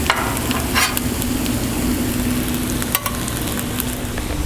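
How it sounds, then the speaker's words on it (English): Hash browns frying in a skillet on a Blackstone flat top griddle, giving a loud, steady close sizzle throughout, broken by a few scraping stirs of a utensil. "I'm going to go ahead and drop some hash browns in here"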